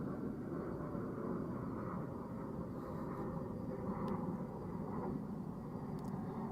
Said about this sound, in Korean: 갑자기 이렇게 밤에 이렇게 비행기들이 많이 날아다녀?